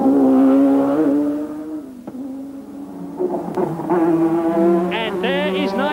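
A Formula One car at the 1987 Detroit Grand Prix, Alboreto's, drones and shifts through gears as it heads into the pits, its engine note rising and falling loudly with commentary faint beneath.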